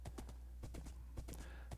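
Hooves of a horse in Minecraft clip-clop in a quick, uneven trot of close, distinct thuds, with steady low background noise and no talking.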